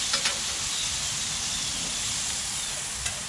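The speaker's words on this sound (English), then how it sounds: "Your bacon needs to cook very good, very nicely." Bacon fries in a pan with a steady, close, crackling sizzle that holds throughout, broken by a few small pops.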